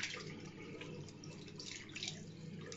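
Tap water runs steadily and splashes into a sink as a face is rinsed with clean water during an evening skincare routine, a continuous close wash of sound with no talking.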